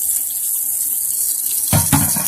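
Tap water pours steadily into a clear cup, a constant hiss of running water, with a couple of louder splashing gulps near the end and no voices.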